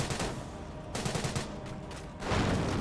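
MG42 machine gun fire in Company of Heroes comes as several rapid bursts of crackling shots separated by brief pauses, moderately distant and fairly faint, with no talk.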